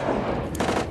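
Gunfire during a firefight in Iraq: a short, loud burst of shots cracks over heavy, continuous background noise.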